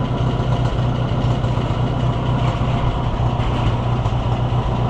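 A Fiat car engine idling with a carburetor running slightly rich, a loud, steady low rumble with a throbbing pulse, close by and continuous, with no voices.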